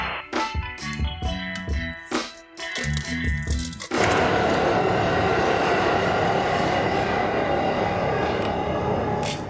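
A subway train rumbles beneath a metal vent cover on a city street: rhythmic clacks and knocks for a few seconds, then a sudden steady, loud roaring rush as the train passes below.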